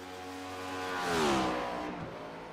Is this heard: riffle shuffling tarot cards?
no